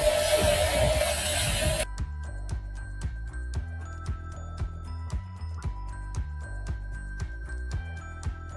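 A spray can hisses steadily onto a jar for a Ramadan sadaqah jar craft, close and loud for under two seconds, then gives way to light clinks and taps.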